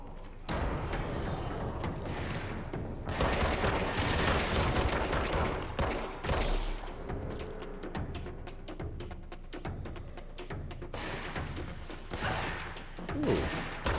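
Rapid bursts of gunfire from the video game Control, loud and dense, coming in long runs with brief gaps between volleys.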